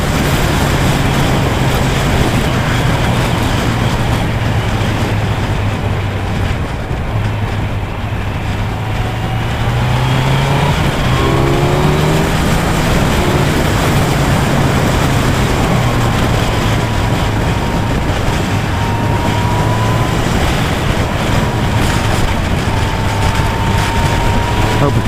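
A Kawasaki Z900 motorcycle with an Akrapovic exhaust rides in fifth gear, the engine drone loud and constant under heavy wind rush, its pitch sliding up and down as it pulls out of bends.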